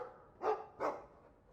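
A dog in the Dragon Age II video game gives two short, clear barks in quick succession against a quiet background.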